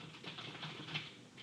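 Someone typing a report on a computer keyboard, producing a quiet, continuous patter of key taps with soft clicks, close by and with no talking.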